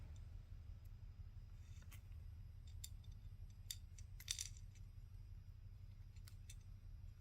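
Jewelry wire on a sea spiral necklace snipped with cutters at a middle ring, a few faint, sharp clicks and metallic ticks scattered over a steady low hum, close and quiet.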